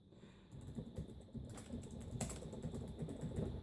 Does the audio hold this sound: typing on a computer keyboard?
yes